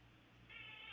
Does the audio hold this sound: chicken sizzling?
no